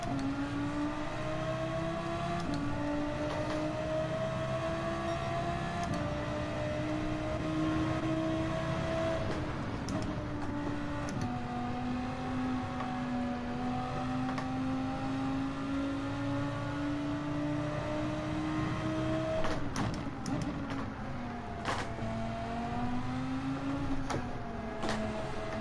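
Race car engines drone steadily through a wet-weather manufacturers' cup race in Gran Turismo, a sustained engine whine shifting pitch up and down with gear changes and throttle over about twenty-five seconds, with no talk.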